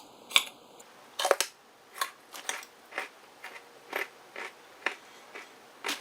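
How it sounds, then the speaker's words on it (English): Raw carrots are crunched in the mouth in a series of crisp bites, about ten sharp crackles at a steady pace, close and fairly quiet against a silent background. "There's a lot of chewing that goes on with carrots."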